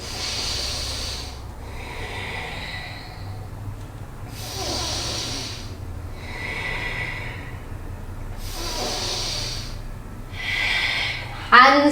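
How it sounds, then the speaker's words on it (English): Deep, slow yoga breaths during a Kundalini heart chakra flow, several long airy cycles up close with a steady rhythm and brief quiet gaps, over a low background hum. "Let's take 3 breaths."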